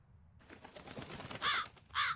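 A crow caws twice in the Tales of Berseria video game, two loud harsh calls near the end, following a stretch of rustling and clattering game noise.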